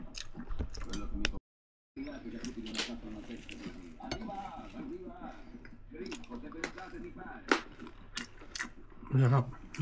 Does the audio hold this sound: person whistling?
no